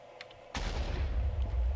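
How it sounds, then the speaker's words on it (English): A TNT explosion goes off in a Minecraft-style video game, one sudden loud boom followed by a long rumbling roar that fills the rest of the moment, after faint quiet clicks. "incoming giant explosion."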